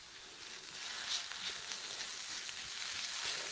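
Chestnut mushrooms sizzle steadily in a hot pan as part of a mushroom ragù, a continuous close crackling hiss with small pops, no talking.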